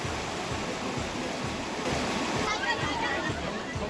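The clear, cool Mọt mountain stream in Quảng Bình flows through wild forest, a steady rushing and splashing of water that continues without a break, with a narrator speaking over it.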